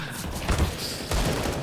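Gunfire from a Counter-Strike match played at the ESL Pro League, with rapid shots through a wooden wall that swell into two loud bursts under continuous background noise while a caster's voice talks over them.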